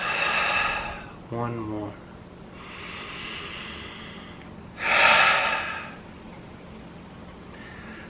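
Deep breaths drawn in through the nose during a guided centering exercise come as several broad, airy inhales of varying length, close to the microphone, with a short spoken phrase in between.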